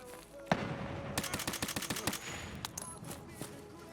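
Gunfire during a raid in a video game: a sharp single shot, then a rapid burst of repeated shots that slows into scattered, fading reports, fairly close and loud.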